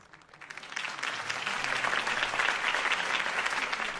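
Crowd applause greets a political campaign speech in Batman: The Telltale Series, swelling quickly from a few claps into steady, dense clapping that holds loud and even to the end.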